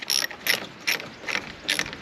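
A ratchet wrench cranks on a battery terminal nut of a 2002-2010 Ford Explorer, four short clicking bursts of pawl clatter at an uneven pace, close and clear with no talk.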